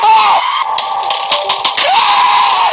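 A person screams loudly and continuously, wavering in pitch, in a horror-style take on Plants vs Zombies, with short percussive hits breaking through the scream.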